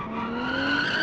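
Sustained tire squeal from a 1970s Japanese sports car doing a one-wheel peel with an open differential in the BeamNG driving game, a steady high-pitched screech over engine drone, loud and continuous throughout.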